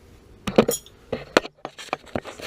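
Sharp clicks from the igniter lighting the pilot on a 2015 Rheem water heater, several distinct ticks in a short burst, close and fairly loud, with no talking.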